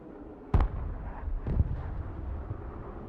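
Artillery fire and explosions in the Broken Arrow war game: a sharp booming blast followed by a second, softer detonation, with low rumbling battle noise filling the gaps between them.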